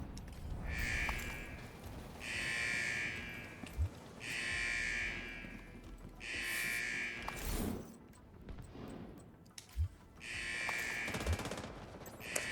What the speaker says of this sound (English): I'm using the rugged gauntlet. See, blind fire or like hip firing.